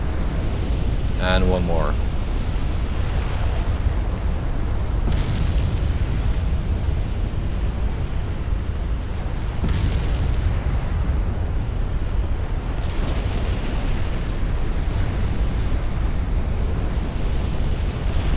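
Warship flash fire explosions rumble in the Ultimate Admiral Dreadnoughts naval battle game, a heavy continuous roar of blasts and sea-like noise, with someone speaking briefly early on.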